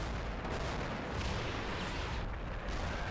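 Continuous rumbling barrage of artillery fire in the WWII game Combat Mission: Battle for Normandy, a dense steady roar of distant blasts and gunfire with no clear gaps.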